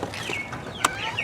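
Chickens in a backyard garden give a few short, scattered clucks at moderate distance, with faint bird-like calls and quiet outdoor ambience around them.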